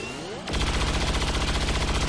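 Rapid gunfire from XCOM 2 erupts after a brief lead-in, a dense, loud burst of repeated shots that continues steadily to the end with no talking.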